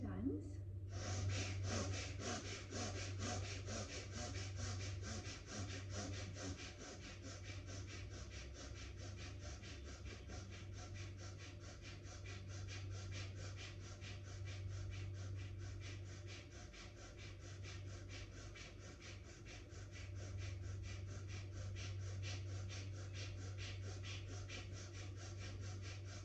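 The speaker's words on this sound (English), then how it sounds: "Let us start our practice with powerful chest bellows. It's called Bhastrika." Bhastrika yoga bellows breathing, forceful rhythmic chest breaths pumping in and out at a steady rapid pace for the whole stretch, close and loud over a constant low hum.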